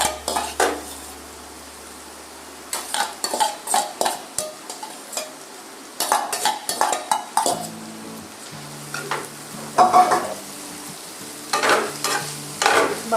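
Bamboo shoots fry with potatoes and spices in a pan, a spoon scraping and clattering against the metal in repeated bursts of stirring over a soft, continuous sizzle.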